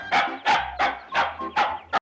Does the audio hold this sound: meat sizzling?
no